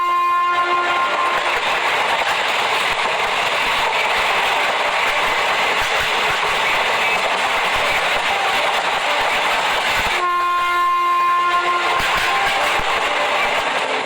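A moving train rolls along with a steady, loud rumble and rhythmic rail clatter, with sustained horn-like tones running through it and a brief dip near the end before the noise resumes.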